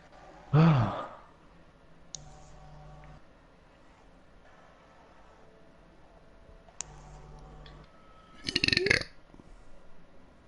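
Two loud, close burps from a Swiss German gamer during a PS4 session, one short and gurgling at the start and a longer rattling one near the end, with quiet clicks and room noise between.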